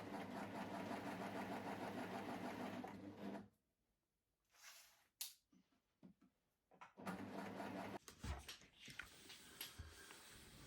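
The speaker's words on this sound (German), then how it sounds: "Ich nähe meine Säume natürlich am liebsten mit der Coverstitch, auch den Halsausschnitt und den Armausschnitt." Coverstitch sewing machine running while hemming a dress, a loud close whirring motor hum that stops abruptly, followed by handling clicks and short bursts of stitching.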